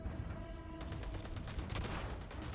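Rapid gunfire crackles in the sci-fi game Starfield as a dense burst of repeated sharp shots. The shots sit over a steady noisy backdrop and grow busier partway through, with no talking.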